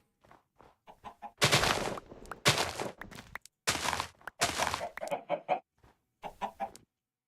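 Minecraft chickens cluck in short pecking bursts, with several louder broadband thumps and scrapes in between, all close and clear with no talking.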